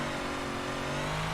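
Big block dirt car in the iRacing sim revving hard, a loud, steady, buzzing engine note held at high revs throughout, close and alone.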